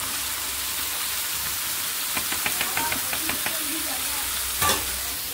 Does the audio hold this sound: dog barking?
no